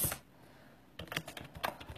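Keys clacking on a computer keyboard as text is entered, a quick run of close, light taps after a short pause, alone with no talk.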